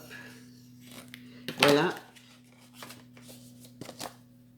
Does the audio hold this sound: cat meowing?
no